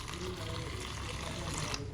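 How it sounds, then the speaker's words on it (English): Water poured steadily into ground groundnut, a continuous close splashing, gurgling flow without pause. "Then I'll be pouring in water."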